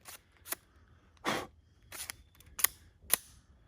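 A Microtech Halo VI out-the-front knife, abused with hammering and wood jammed into its mechanism, fires its blade: a handful of sharp, dry mechanical clicks and snaps, close and distinct, spaced irregularly with quiet gaps between them.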